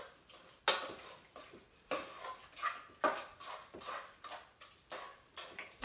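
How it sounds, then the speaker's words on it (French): A spoon stirs a surimi terrine mixture in a bowl with rhythmic scraping strokes, about ten in a row, each with a light clink, close and clear with no talking. "on vient remuer la préparation"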